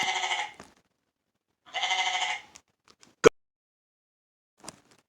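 Two long nasal goat bleats ring out loud and alone with a pause between them, followed by a sharp click and a couple of faint ticks.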